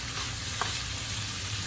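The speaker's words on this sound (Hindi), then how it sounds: "अब इसको अच्छी तरह से हिला लेते हैं" Chicken with soy sauce and sweet chilli sauce is stirred in a hot pan, giving a continuous close sizzle with a faint scrape of the spoon and no voices.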